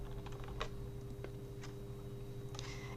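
Soft, scattered clicks of computer keyboard keys, including the control key held down, sound a few times over a steady low electrical hum, close and quiet, with no talking.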